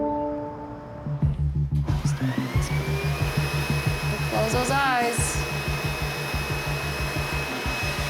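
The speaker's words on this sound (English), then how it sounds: "We do the vacuum because it creates a little smoke" A vacuum smoke evacuator runs during a skin procedure in a dermatology office, switching on to a loud, steady whirring whine with a slight pulsing rhythm, while a person briefly speaks over it.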